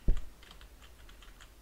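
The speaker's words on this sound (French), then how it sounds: "si vous entendez des clics de souris ou des clics de clavier" A single sharp click is followed by a quick patter of light computer keyboard keystrokes, close and fairly quiet, over faint room noise.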